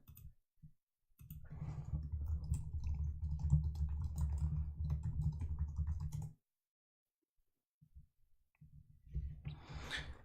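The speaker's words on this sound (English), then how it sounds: "I'm sorry you have to listen to me type" Fast bursts of typing on a computer keyboard, with dense clicking keystrokes close up, a long run, then a pause of near silence before a shorter flurry resumes.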